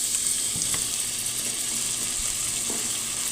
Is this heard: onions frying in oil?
yes